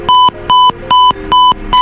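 A buzzer in a simulated automatic plant watering system sounds five steady electronic beeps in a regular on-off rhythm, loud and close, with no voices.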